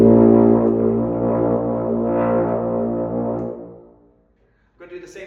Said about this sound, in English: This is going to be just playing nice open B flat.